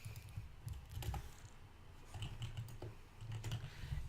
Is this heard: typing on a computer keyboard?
yes